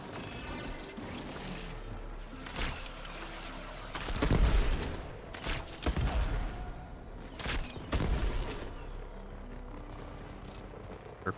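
Surface-to-air missiles in Warframe fire in a run of sharp, loud bursts over a rumbling background. Several booming blasts arrive at irregular intervals, with a few heavier clusters of hits, and no talking.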